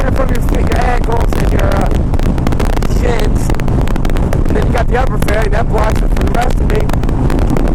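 Wind rushes past a 2001 Harley Davidson Ultra Classic with its upper and lower fairings during a ride, a loud continuous buffeting roar that runs unbroken while the rider speaks over it.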